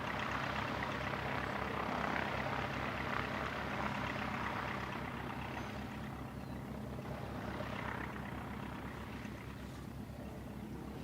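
Aircraft taking off from an aero club runway, a steady loud propeller-engine drone with a broad roar that swells and holds throughout, no voices.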